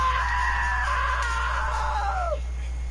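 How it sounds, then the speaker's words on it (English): A single drawn-out, high-pitched scream from the video game What Remains of Edith Finch rings out for over two seconds, then bends downward and cuts off, above a steady low hum. "Now that was a great scream."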